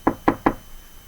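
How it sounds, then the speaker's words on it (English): Three sharp knocks rap against the underside of a wooden desk in quick, evenly spaced succession, each one close and distinct, followed by quiet room tone. "give the desk a little bang, a little knock"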